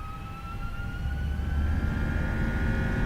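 An FSLabs Airbus A319 jet spooling up for takeoff in the P3D V5 flight simulator, a steady roaring engine drone with a whining tone rising slowly in pitch and growing louder.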